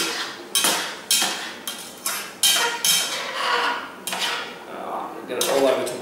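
During a live cooking show, a pan is set back on the stove with a series of clanks and scrapes of metal, roughly a dozen close knocks, with cutlery clinking in between.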